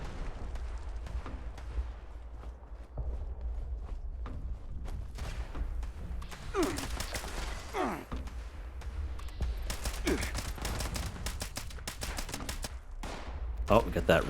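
Enemy gunfire in Fallout 76 comes as scattered sharp shots and short bursts over a low steady rumble, some of them loud and clustered. Mid-volume game sounds continue underneath.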